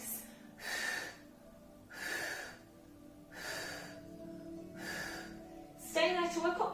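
A Pilates instructor demonstrates the breathing for an intermediate exercise with slow, close, audible breaths repeating in a steady rhythm of about five even cycles, ending in a short burst of voice.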